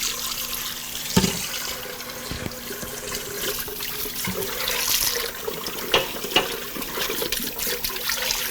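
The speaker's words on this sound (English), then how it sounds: "if I'm washing bowls in between, you have to use cold water" Cold tap water runs steadily into a kitchen sink while a mixing bowl that held eggs is rinsed under it, a continuous close splash with a few knocks and clatters of the bowl against the basin.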